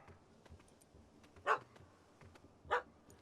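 A puppy in The Witcher 3 gives two sharp, high yapping barks spaced about a second apart, moderately near over a soft outdoor game ambience, with no talk.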